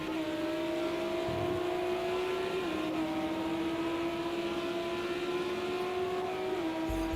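Race car engines lapping Silverstone in Project Cars 2, a GT World Challenge session, hold a steady high drone with one clear downshift, continuous and fairly loud with no talk over it.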